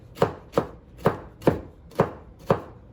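Red peppers chopped on a cutting board with a knife, six evenly spaced, crisp close-up thuds about half a second apart, no voices.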